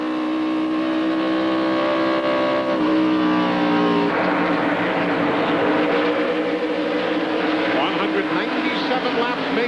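Race cars at the 1999 Alltel 200 drone loudly with layered engine tones that shift in pitch as the cars pass, the field roaring continuously without a break.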